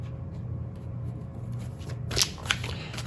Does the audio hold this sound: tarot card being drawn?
yes